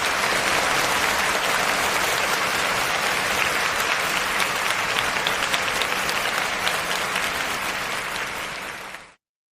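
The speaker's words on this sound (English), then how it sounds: "let's give Ryan some applause on that" An audience applauds steadily and loudly for about nine seconds, a dense, even wash of clapping that cuts off abruptly at the end.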